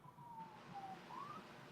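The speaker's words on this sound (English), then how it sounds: "got the police car rolling in? That's my neighborhood." A police car siren wails through a residential neighborhood, faint and distant, its tone sliding down and then rising again over steady background noise, with no talking.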